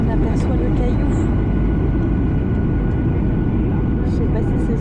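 Cabin noise from inside an airliner landing at Uluru in central Australia, a loud, steady broadband engine and air roar filling the whole clip with a few faint chimes high above it.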